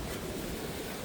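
Sea waves wash over a pontoon at Sochi on the Black Sea coast, a dense, steady rushing of water and spray heard up close with no break.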